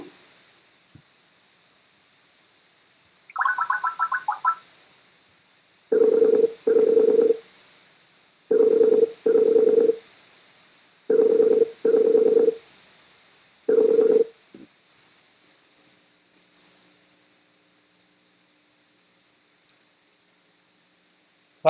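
Telephone keypad tones ring out in several short paired bursts after a brief higher tone, clear and close against a steady faint hum, then fade to near silence; no one speaks.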